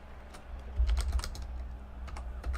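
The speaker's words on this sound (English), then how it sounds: "look at what I'm typing" Keyboard typing at close range, a quick irregular run of key taps over low room rumble, with no voices.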